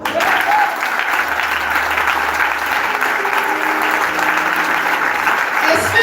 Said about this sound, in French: Est-ce qu'on peut l'acclamer?